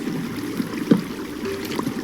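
Water running through a mob farm in a block-building video game, a soft continuous trickle and gurgle with a few faint clicks, alone and at moderate level.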